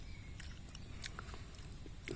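Araucaria columnaris pine seed chewed whole, shell included, outdoors in a New Caledonia pine grove, giving faint, irregular crackly bites against steady low background noise.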